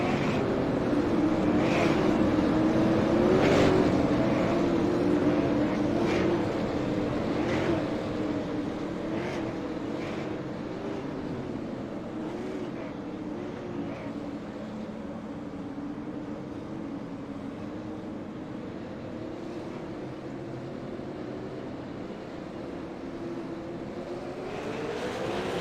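Racing karts in a heat race at Lanier drone together in a sustained, layered engine roar with rising and falling pitch, fairly close, a few sharper bursts early on, no talk.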